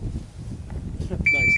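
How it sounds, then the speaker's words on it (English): A shot timer at a shooting range gives one short, steady electronic beep after being bumped, following some rustling and muffled handling noise. "I bumped my shot timer"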